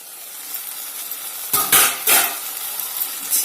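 Methi chicken fries in oil in a pan, a steady close sizzle throughout. Two louder bursts of scraping and stirring with a utensil come partway through. No one talks.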